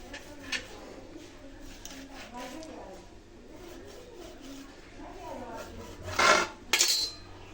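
A knife cuts deep slits into raw chicken pieces for a steam roast, with soft scraping and handling noises, then two sharp metallic clinks near the end, under ongoing talk.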